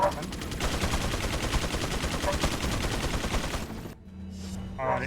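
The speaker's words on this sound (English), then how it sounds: "Is that like a machine gun or?" Sustained machine gun fire from Resident Evil 4 rattles in a rapid, dense, loud burst for about four seconds, then cuts off abruptly into quieter game sounds.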